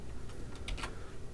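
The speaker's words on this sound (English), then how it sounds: "this is just by clicking the down arrow on your keyboard" A few soft, close clicks come from a computer keyboard's down arrow key being tapped, heard as light ticks over a steady background hiss.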